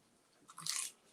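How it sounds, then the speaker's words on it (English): A crisp bite into a fried lumpia roll gives one short, bright crackling crunch up close, fairly quiet and alone with no talk. "That was a good, satisfying crunch."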